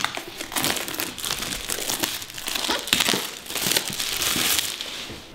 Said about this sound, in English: it's nicely shrink wrapped, so let's tear it open